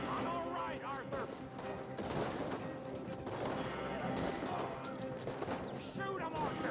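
Video game gunfire from Red Dead Redemption II: a steady, dense fusillade of rifle and machine-gun shots through the whole stretch, with shouted speech mixed over the shooting and a faint clatter of hooves underneath.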